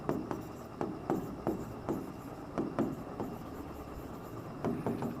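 Pen or chalk writing out a Clairaut's differential equation solution, with repeated scratchy strokes and taps in an irregular rhythm, close and moderately quiet, without speech.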